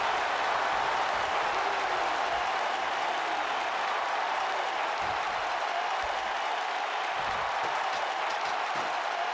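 A large crowd in the WWE 2K22 video game applauds and cheers through a TLC match, a dense and steady roar of clapping and noise that holds at an even, moderately loud level throughout.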